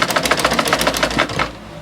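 Sewing machine stitching fabric for a pleated peplum gown, a fast, even run of needle clatter for about a second and a half before stopping, close and clear.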